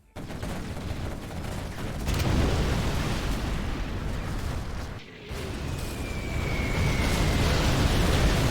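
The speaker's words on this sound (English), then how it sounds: "Artillery coming in as well as the carpet." Artillery shells and carpet bombing in a real-time strategy video game, a sustained dense roar of overlapping explosions with a brief dip midway and a whistling streak later, loud throughout.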